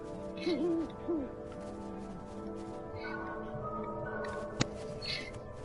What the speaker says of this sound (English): Oh, there's an owl right there too.